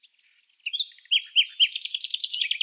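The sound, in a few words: white-crowned desert bird singing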